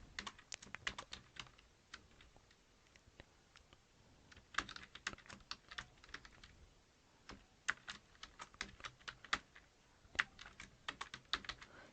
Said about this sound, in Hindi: मैंने यहाँ पर एड्रेस टाइप किया।